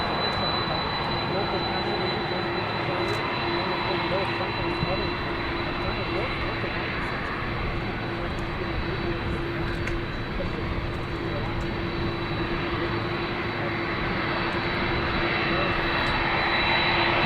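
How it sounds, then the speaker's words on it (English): Air Force One, a jet aircraft, rolls along after landing at Palm Beach International Airport, giving a steady, loud engine roar and whine that holds unbroken throughout, with a voice faintly in the background. "we are at Palm Beach International Airport, and Air Force One has just landed"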